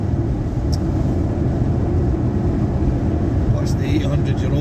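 Ford Mustang 5.0 Coyote engine chugging uphill in fifth gear, a steady, loud low rumble with road and wind noise that holds constant throughout.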